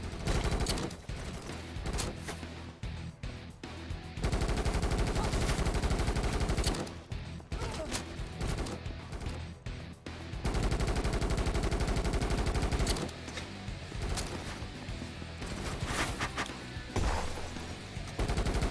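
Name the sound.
gunfire in the video game Kinki Spiritual Affairs Bureau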